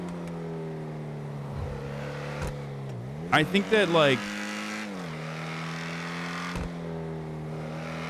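Video game car engine droning steadily throughout, with a burst of crunching, clattering impacts in the middle as the car slams into trees and rocks; someone talks over it the whole time.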